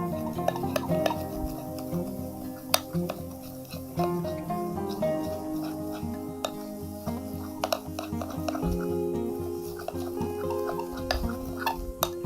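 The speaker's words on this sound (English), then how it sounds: "Now mix well all the ingredients." Ingredients for a homemade permanent hair-straightening mixture are stirred in a bowl, giving quiet, repeated clinks and scrapes of a utensil against the sides at an uneven rhythm, with no talking.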